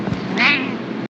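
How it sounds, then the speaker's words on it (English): A house cat meows once, a drawn-out insistent call for attention, close and clear over faint room tone. "Cat's trying to get my attention for the 50th time today."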